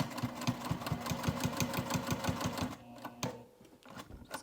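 A sewing machine stitches around fabric corners of a dual zip crossbody bag with a fast, even mechanical chatter, close and clear, then stops and leaves a few quieter clicks.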